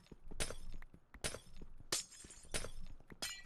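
Glass blocks shatter one after another in Minecraft while being mined with Silk Touch, five or six sharp, bright breaking crashes spaced about half a second apart.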